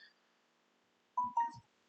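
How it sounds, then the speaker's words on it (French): A mobile phone gives a brief alert, two short tonal chirps close together then a lower fading note, standing out clearly against an otherwise quiet room. "Ah, j'ai pas mis le téléphone en silence"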